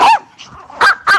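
Puppies barking up close, with three sharp, loud yips and barks: one, then a pause, then two more in quick succession.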